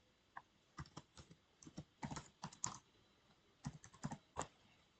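Keys clatter on a computer keyboard as a command is typed into a terminal, in irregular bursts of quick clicks, close and fairly quiet in a silent room.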